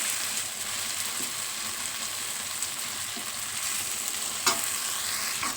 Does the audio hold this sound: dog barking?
no